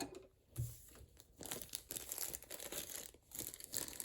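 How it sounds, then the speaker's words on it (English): Plastic packaging being cut and pulled off a new sewing machine, crinkling and tearing in irregular bursts up close, quiet at the start and then steady rustling throughout. "I'm going to just cut the plastic here"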